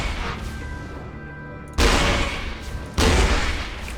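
A rocket launcher in Borderlands 2 fires rockets, two loud, sudden blasts about a second apart, each a broad, booming whoosh that trails off, over steady game background noise.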